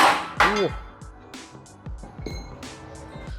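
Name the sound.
press removing a car ball joint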